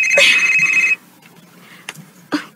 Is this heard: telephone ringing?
yes